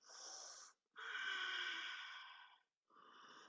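Slow, audible breaths during a hatha yoga pose, three airy wheezing breaths with brief pauses between them, soft and close with no talking.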